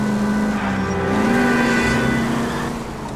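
Car engine in the video game L.A. Noire, droning steadily and rising in pitch as the vehicle accelerates, loud and continuous with no talk.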